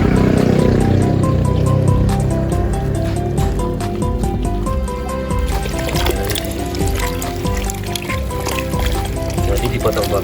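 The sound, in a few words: washing sliced carica fruit with salt in water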